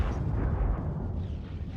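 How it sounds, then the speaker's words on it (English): Gunfire in the Star Citizen space game during a death-race event: a loud, dense, booming rumble with heavy low end that holds steady throughout and eases slightly near the end, with no clear separate shots. "I see Reedon taking a gunshot."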